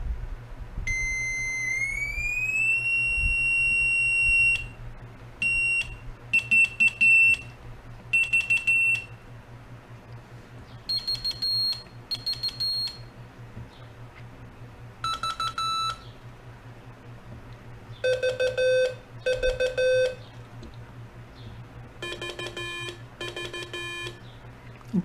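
A CW telegraphy practice oscillator sounds steady electronic tones in separate bursts, some sliding in pitch and others jumping between high and lower settings, over a constant low hum.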